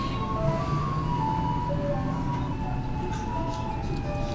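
Garbage collection truck playing a looping melodic jingle as it passes, steady and moderately loud over a low rumble of traffic.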